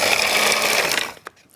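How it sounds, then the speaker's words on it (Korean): An electric grinder whirs loudly as it grinds ingredients for doenjang, such as dried pollock powder. A steady high buzzing runs for about a second and then stops, followed by a couple of faint clicks. "이걸 이렇게 해서 갈면은 이렇게 순식간에 갈아져요"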